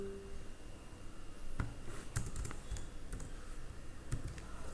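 Keys clack on a computer keyboard during a Python programming lesson, a few scattered taps and one firmer press like the enter key, close and moderately quiet over a steady room hiss.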